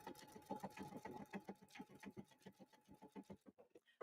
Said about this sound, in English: So again, we just sew until it stops.